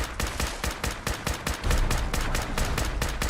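Rapid automatic gunfire in Fallout 4's Far Harbor, a fast steady rhythm of sharp, loud, close shots in continuous bursts, with a denser heavier stretch partway through.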